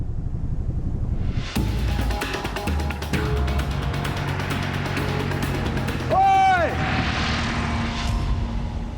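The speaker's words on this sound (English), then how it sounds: "A spotter plane is heading straight for Theo" A spotter plane flies overhead in the Australian outback, its engine drone rising and passing with a strong tonal sweep midway through, loud and continuous over the open landscape.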